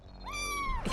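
A cat lets out a single short, rising meow, clear but fairly quiet against a low background hum.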